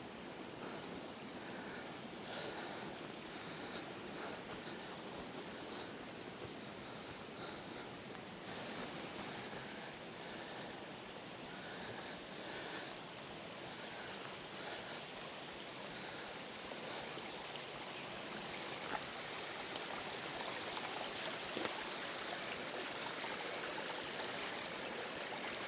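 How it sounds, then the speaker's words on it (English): Mountain streams rushing in the misty hills above the Dare Valley, a steady broadband wash of flowing water heard from a distance, unbroken and even, with no voices. "So you can see all the streams."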